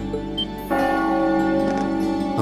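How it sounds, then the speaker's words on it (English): A bell rings at five o'clock in the video game Trails of Cold Steel, a sustained tonal chime with rich overtones layered over steady in-game ambience. "That bell ringing must mean it's 5 o'clock"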